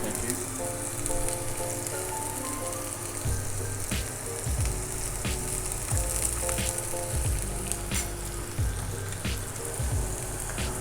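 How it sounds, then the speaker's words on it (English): Food dropped into hot oil sizzles loudly and steadily, a dense crackling hiss with scattered pops, close and continuous with no one talking. "And you can hear immediately they're starting to cook."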